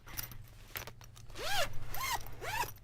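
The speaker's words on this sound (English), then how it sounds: "this zips all the way around" A zipper pulled open around a laptop-style case with zippered pockets, a few quick rasping zips in separate strokes after some light handling clicks, close and fairly loud.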